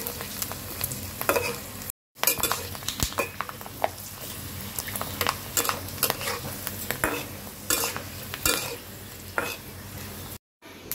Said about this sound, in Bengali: আমি এই পিঠাগুলো ভাজলাম